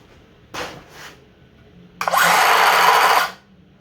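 A basic, sturdy power saw, used on a DIY camper escape hatch install, runs up in two short bursts and then roars steadily at close range for about a second before winding down.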